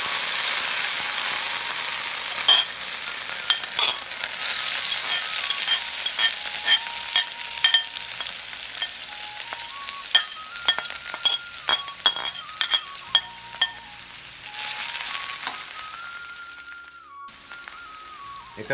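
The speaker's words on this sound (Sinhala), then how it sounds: "එකතු කරගෙන මේ ටික තෙලේ චුට්ටක් මොනවා වගේ ටෙම්පරාදු වෙන්න අරගන්නවා" Boiled, chopped karan kok greens sizzle and fry in hot coconut oil, a continuous crackle with frequent clinks and scrapes of a stirring utensil against the pan, close and steady with no voices.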